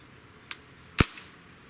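Shots from an unsuppressed DPMS airgun, two sharp cracks about half a second apart, the second louder with a brief tail, in an otherwise quiet setting.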